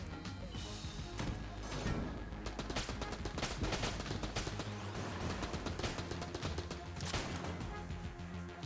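Rapid video-game gunfire from Enter the Gungeon, using a giant weapon, rattles in dense bursts of sharp shots and crashes, loud and nearly continuous with brief lulls.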